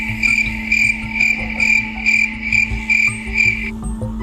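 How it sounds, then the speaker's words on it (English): Crickets chirp in a loud, regular series of about eight bright pulsed trills, evenly spaced, over a low rumbling background, stopping abruptly near the end. "There's the crickets."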